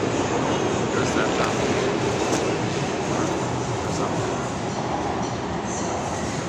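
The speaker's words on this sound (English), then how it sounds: "now those sky trains that pass by" SkyTrain passing by, a loud continuous rumbling roar of the elevated rail cars that holds steady throughout with a slight easing toward the end.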